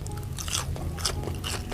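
Crispy skin of Nashville-style fried chicken crunches in a few close, wet bites with chewing between them, with no talking.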